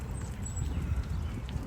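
Horse hooves on the bridle path in Central Park North, New York City, a steady low clip-clop of walking steps under outdoor ambience, moderately close.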